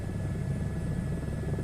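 Steady helicopter rotor and engine drone in a VR flight simulator, a continuous low rumble with a thin high whine, held level throughout with no voices.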